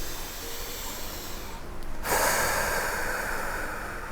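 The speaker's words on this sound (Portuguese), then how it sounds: "Então eu dou uma respirada" A single deep, deliberate breath drawn in slowly and let out as a broad, airy exhale, close and fairly soft, with no speech around it.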